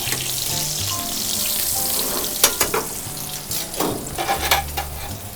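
Steak frying in a pan with olive oil and butter, a steady broadband sizzle throughout with sharper crackles and spits toward the end, close and fairly loud.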